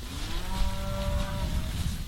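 Cattle on a small ranch low in the Western Plains give a long, drawn-out moo with a rising and falling tone, close and loud above a steady outdoor background.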